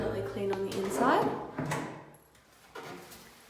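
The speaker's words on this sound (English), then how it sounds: "The drawers open and close correctly and are immaculately clean on the inside." White leather sliding drawers in an apartment, being pulled open and pushed shut, giving short soft rubbing slides and light knocks close by, with a voice speaking over them.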